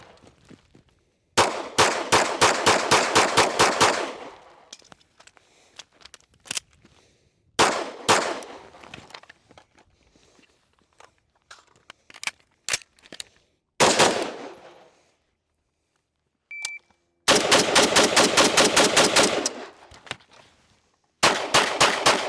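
Bursts of rapid rifle and pistol gunfire during a readiness drill, several strings of quick sharp shots with short gaps and a lone shot between them, loud and close with metallic clanks.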